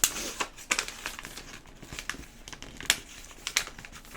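Paper airplane wing being folded down by hand, a run of crisp crinkles and sharp creasing rustles close to the microphone, irregular and fairly loud.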